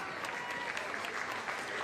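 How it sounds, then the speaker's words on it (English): Stadium crowd at an A-League football match between Newcastle Jets and Western Sydney Wanderers, applauding steadily in a dense wash of clapping with no single voice standing out. "The crowd appreciates what the players do, fighting for a loose ball."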